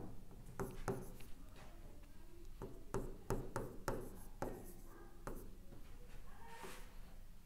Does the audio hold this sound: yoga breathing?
no